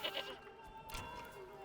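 A goat bleats in Manor Lords, a short wavering call at the start and then a brief sharp cry in the middle, heard faintly over a quiet game backdrop.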